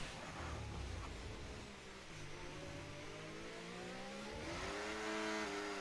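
A Formula 1 race car in a video game at the Austria circuit, engine note climbing and wavering as the driver gets on the gas and the rear tires lose grip, loud and continuous with rising harmonic revs.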